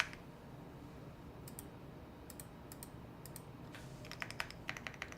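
Someone types on a Bubble 75 keyboard, a quiet run of crisp, separate key clicks that come in short bursts and then quicken into a denser flurry near the end.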